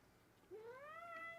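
A sleepy pet cat gives one short, rising meow, soft and close, lasting under a second against a quiet room.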